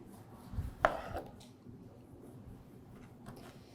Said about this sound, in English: we're actually gonna make slices to get these nice, beautiful star shapes of our grapefruit